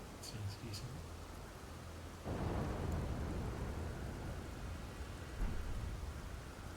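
An Elden Ring ancient dragon lightning incantation cracks and then breaks into a loud, rumbling, noisy burst that lingers like a thunderstorm, after some faint earlier clinks.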